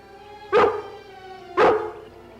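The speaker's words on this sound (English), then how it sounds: "It's only a dog." A dog gives two loud, clear barks about a second apart against a quiet background, with no talking.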